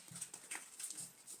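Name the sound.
dog groaning at the window cleaner outside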